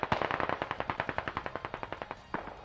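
Automatic gunfire in the video game Squad, a rapid sustained burst of about twenty evenly spaced shots at moderate distance. One heavier report follows near the end, and no voices are heard.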